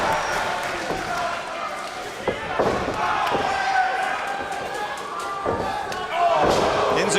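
A dense wrestling arena crowd roars and cheers continuously at a Ring of Honor event, with loud slams and thuds on the ring punctuating the steady noise and a swell of crowd reaction near the end.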